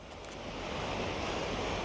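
Sea waves wash in on a flooding tide at Blackpool beach, a steady, broad surf roar with wind buffeting the microphone, loud and continuous without a break.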